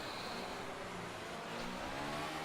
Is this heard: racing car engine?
yes